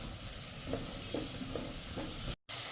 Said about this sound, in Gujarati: હવે આપણે કન્ટિન્યુ આ રીતે રોસ્ટ કરતા રહેશું